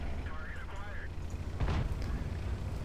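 A tank cannon fires once in World of Tanks, a single heavy boom from a 59 Patton midway through, set against steady engine rumble, with a voice speaking briefly before the shot.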